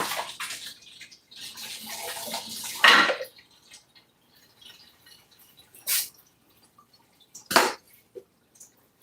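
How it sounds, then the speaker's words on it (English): Cooked noodles and hot water poured into a colander in a home kitchen, a broad rushing splash for a few seconds, followed by a few brief separate splashes and drips. "Put this into the colander to strain it."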